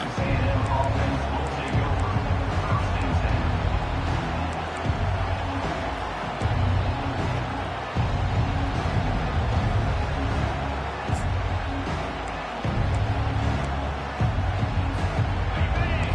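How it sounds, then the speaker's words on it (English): A football stadium crowd keeps up a steady, dense roar throughout, with a broadcast commentator talking over it. "This crowd trying to show them what it's going to be like all day in this house."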